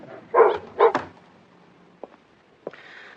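Dogs bark in two sharp, loud yelps close by, followed by a few faint clicks and a brief high whine, no speech over them.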